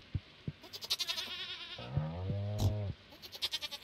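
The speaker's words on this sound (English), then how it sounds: "that goat's still not even grown up yet" A goat in the farming game Stardew Valley gives one clear, wavering bleat in the middle, set between rhythmic soft tapping footsteps and light ambient game sounds.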